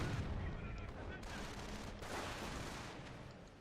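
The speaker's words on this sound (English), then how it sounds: "They've got two snipers just blasting away his troops." Sniper rifle fire rings out during a Company of Heroes battle, a dense, continuous wash of gunfire and rumbling artillery that sounds steady and mid-distance, with faint voices underneath.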